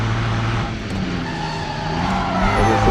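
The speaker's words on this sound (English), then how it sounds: "And it's a emergency brake." Car in the video game Driver San Francisco skidding under the emergency brake, a loud continuous tire squeal over steady engine roar for about three seconds, close and unbroken.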